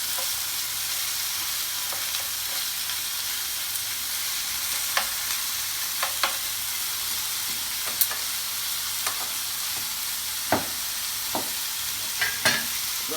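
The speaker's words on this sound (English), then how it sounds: "Alright, these are cooking quite nicely. So we can turn these over." Satay chicken skewers sizzle steadily in a hot pan, a constant frying hiss broken by scattered clicks and scrapes as the pieces are stirred and turned.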